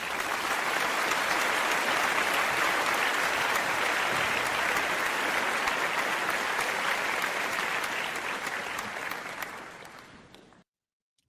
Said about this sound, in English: you deserve applause for that